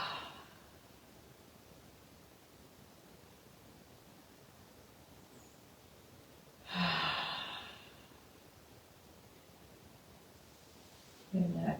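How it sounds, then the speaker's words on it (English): Deep letting-go breaths during a gentle autumn yoga practice, two loud breathy exhales heard close by and separated by several seconds of quiet room hiss. "Let's take 2 letting go breaths here."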